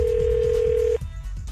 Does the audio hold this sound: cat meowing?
no